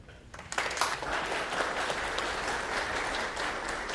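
A lecture audience at Ball State bursts into sustained, even applause to welcome the speaker, swelling quickly and holding steady with many hands clapping.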